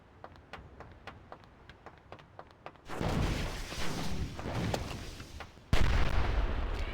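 Repeated weapon fire in the Oni video game: a quick series of sharp pops, then a heavy sustained roaring burst and a second loud blast, with no talking.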